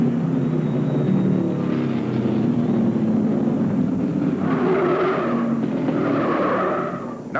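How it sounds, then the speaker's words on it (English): A stock car loops into a spin entering turn two during the 1975 NASCAR Dogwood 500 at Martinsville Speedway. Engine roar washes over the track with rising tire squeal and scrubbing noise, heard from a distance without voices. "Number 8, Junior Crouch, does a looper entering the second turn"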